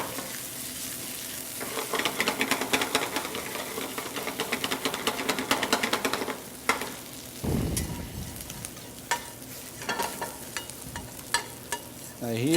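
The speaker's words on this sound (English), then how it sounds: "Now here the roasting goes nice and slowly." Flour-dusted meat roasting gently in a pan, a close, continuous sizzle with brief stirring and scraping bursts and occasional clunks of utensils, no voices.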